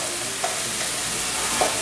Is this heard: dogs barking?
no